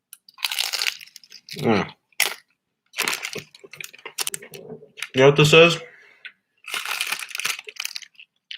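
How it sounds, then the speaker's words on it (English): Close, loud crunching bites of a taco, several brittle crackling chews in short bursts separated by pauses, with a person talking between mouthfuls. "I'll probably be munching on this."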